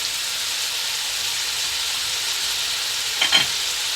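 Cabbage and mixed vegetables stir-frying for veg fried rice give off a steady, bright sizzle with no pauses. A short clatter of stirring rises near the end.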